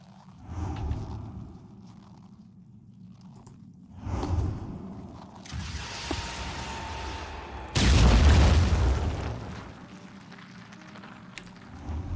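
Phoenix Point missile strikes land as a series of deep booms and rumbling bursts, rising to a loud, long blast near the end with fading debris rumble afterward.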